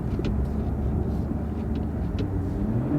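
A Toyota car with its automatic transmission set to manual shifting accelerates under a steady, loud engine and road rumble. The sound is continuous and heard from inside the car, with no talking over it.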